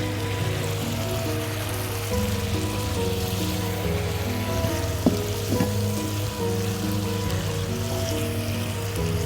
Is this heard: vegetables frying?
yes